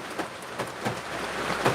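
Rain falling steadily, a dense hiss with soft irregular patters on a surface, close and constant with no voices.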